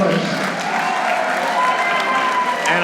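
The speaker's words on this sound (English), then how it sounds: "a huge ovation from this crowd here in Yonkers" A wrestling crowd in Yonkers gives a big sustained ovation of applause and cheering, with an announcer talking over it.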